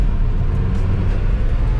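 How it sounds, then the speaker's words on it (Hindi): Restored 2004 Maruti Suzuki Gypsy driving over small bumps in second gear, a loud steady low engine and road rumble with jolting thumps from the shaking body, close and continuous with no talking. "ये देखो कैसे गाड़ी शेक करती है जैसे ही थोड़े से जंप में से निकलती है"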